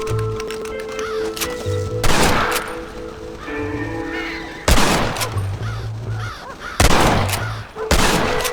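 Crows caw in Red Dead Redemption, their harsh calls scattered through the scene and repeatedly cut by loud, sharp gunshot bursts close by.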